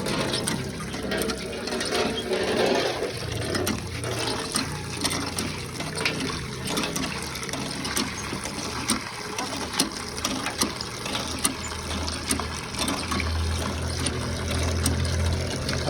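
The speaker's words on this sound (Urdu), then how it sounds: "فرحان اس وقت پانی پلا رہا ہے گائے کو" Water gushes and trickles steadily as a cow is given water to drink at a rural farm in Pakistan, a continuous splashing flow running throughout, with faint voices in the background.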